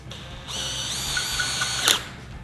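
A drill drives a GRK Caliburn screw into a pre-drilled hole, a loud close whine rising as the motor spins up, holding steady, then ending with a sharp bite and release as the screw seats.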